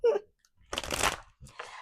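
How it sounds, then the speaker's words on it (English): Tarot cards are shuffled close by in one dense, rustling riffle burst lasting about half a second, then a softer second flutter. A brief voice sound comes just before. "I just enjoy shuffling."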